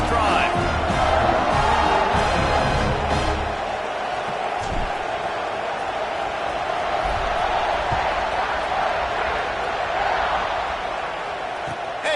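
A college football stadium crowd at an Ohio State game roars steadily after a scoring drive as the kickoff unit takes the field, with a broadcast commentator talking over the dense cheering.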